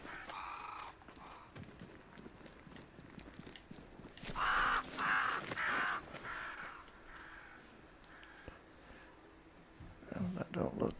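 Crows caw in the game Banishers: Ghosts of New Eden, a few rasping calls at the start, then a loud cluster of repeated caws in the middle, with low murmuring voices underneath.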